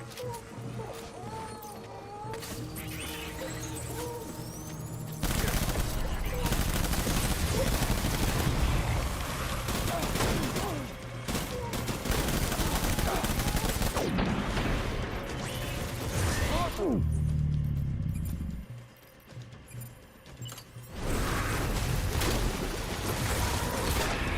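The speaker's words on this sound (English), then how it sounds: "Taking fire." Gunfire erupts in Death Stranding, with rattling automatic bursts and volleys coming in long stretches separated by a quieter lull, a dog-like whimper and other sounds scattered through the mix.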